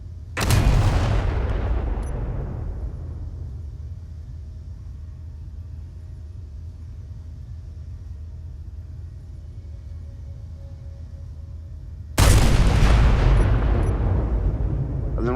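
Two heavy armor-piercing cannon blasts from a ship in the space game Space Engineers, one at the start and one near the end, each a loud booming crack with a long rumbling decay in between.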